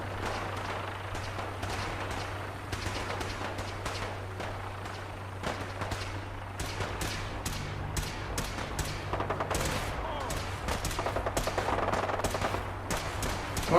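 Sustained rapid gunfire from a Fallout 4 firefight, bursts of automatic shots and single cracks overlapping continuously at close range over a low steady hum, with no talking.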